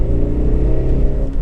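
Honda CR-Z 1.5 four-cylinder hybrid engine revving with a steady induction growl, a close, loud, continuous low drone of engine harmonics.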